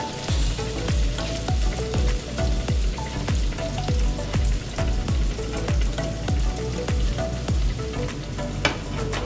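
Korean twisted doughnuts (kkwabaegi) fry in hot oil with a steady, close sizzle and crackle. Rapid bursts of popping run through it without any voices.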